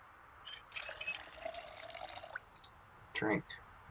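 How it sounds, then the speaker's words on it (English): Water bottle being filled from a tap in the survival game Project Zomboid: a short running-water fill with light drips, followed by a louder splash near the end, all fairly quiet. "Fill the water bottle."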